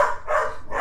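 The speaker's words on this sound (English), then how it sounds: "Goddamn dog! Damn dogs!" Dog barks come in three quick, loud bursts in a rapid rhythm, close by and sharp, with no talking over them.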